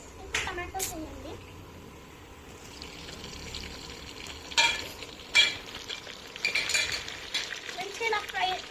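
Tomatoes and onions frying in a pan while a child stirs, with uneven sizzling and scraping bursts of stirring and a voice briefly talking.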